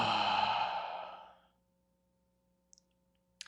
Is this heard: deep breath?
yes